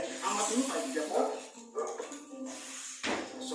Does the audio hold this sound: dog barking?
yes